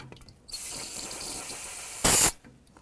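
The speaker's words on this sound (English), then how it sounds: "So I'm going to use some water to wash away the residual, any coolant." Water rinses leftover coolant off the crank pulley of a 1998-2002 Honda Accord 3.0L engine: a steady, close hissing spray runs for about two seconds, then a brief louder gush cuts off abruptly.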